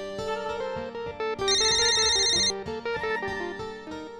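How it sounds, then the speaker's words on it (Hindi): A mobile phone rings loudly with an electronic melodic ringtone, bright tonal notes rising and shifting over about four seconds, steady and close, with no voices over it. "शायद तुम्हारा फोन बज रहा है"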